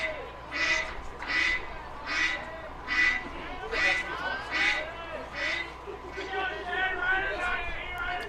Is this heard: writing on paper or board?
no